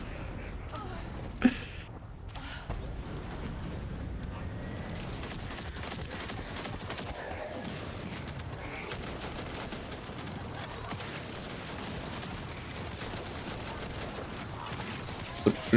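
Rapid gunfire from an online shooter game, The First Descendant, in dense, continuous bursts that start after a few quieter seconds and keep up at moderate loudness, with a player's voice now and then.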